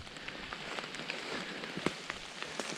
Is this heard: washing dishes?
no